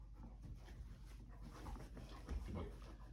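Rambo, a rescue dog, whimpers and pants softly at close range, breathy huffs with faint whines underneath, amid low room noise.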